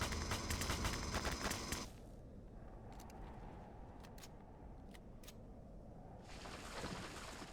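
Pulse rifle fire in Empyrion Galactic Survival rattles in a rapid, loud burst for the first two seconds, then a few faint sharp shots pop over a low rumbling background before a softer noisy wash returns near the end.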